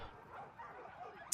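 Dogs in the Total War Arena battle game yip and whimper in short bursts, faint under a busy battlefield ambience, with a sharper burst right at the end.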